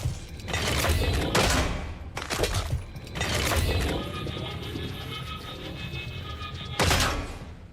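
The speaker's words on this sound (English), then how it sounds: "This is not an energy weapon. Why is it charging up like a laser gun?" A weapon in the Killing Floor 3 video game gives off a rising electric whine like a charging laser gun, with loud bursts of gunfire and thuds cutting in repeatedly.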